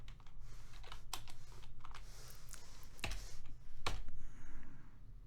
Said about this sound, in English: I'm kind of punching his numbers into the calculator in a hurry